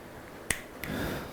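Two crisp, close finger snaps in a quiet room, a sharp one followed by a lighter one about a third of a second later.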